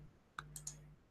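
Quiet clicks of a computer mouse pressing an OK button in mapping software, a sharp click followed by a few lighter ticks over roughly one second, close and soft with no speech.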